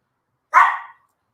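One short, high yap from a Chihuahua rings out close and clear, then fades within a moment into silence, with no voices around it.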